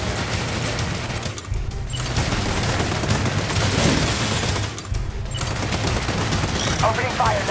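Bursts of rapid gunfire in the video game Death Stranding 2, loud sustained volleys with two short pauses, booming impacts mixed in and faint game voices underneath.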